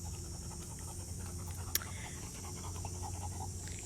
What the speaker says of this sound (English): there's my dog awaiting the ball